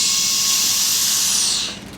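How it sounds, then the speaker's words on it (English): Air rushes back into a chamber with a loud, close, steady hiss that cuts off sharply near the end. "So that's air rushing back into the chamber."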